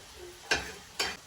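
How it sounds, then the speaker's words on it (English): Potatoes and meat in a pan give two short, bright scraping sizzles as they are stirred, separated by a brief quiet pause, with a soft frying hiss underneath. "And then you just want to give it a nice stir so that way, you can begin the cooking process on the potatoes."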